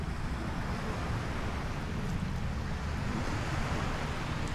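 Ocean waves wash around Palm Jumeirah, the man-made island off Dubai, as a steady, dense rush of surf and wind that stays loud and even throughout, with no voices.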